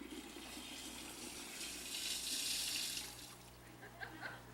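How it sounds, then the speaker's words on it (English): An automatic toilet flushes with a steady rushing gush of water that swells and then fades, faint and recorded at low level, ending with a few small drips and splashes. "Okay, now we're going to have the flush."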